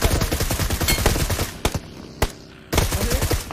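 Rapid bursts of automatic rifle gunfire in the battle royale game PUBG, dense and loud, broken by a few single sharp shots and a brief pause before another burst.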